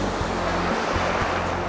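Black Sea waves wash steadily onto the winter shore near Yalta in Crimea, a loud, continuous surf roar with wind buffeting the microphone.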